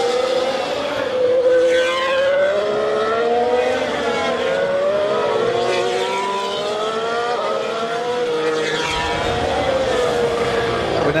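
Formula 1 race cars roar at the start of the Bahrain Grand Prix, a loud, continuous high-pitched engine wail with rising and falling pitch sweeps as several cars pass close by, no talking.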